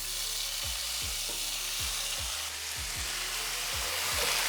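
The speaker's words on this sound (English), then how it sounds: "I will fry it for 2 minutes till all the ghee and the jeera is combined with the rice" Rice fries in hot ghee with cumin seeds, giving a steady, dense sizzle with faint rhythmic scraping of stirring throughout, close and without talk.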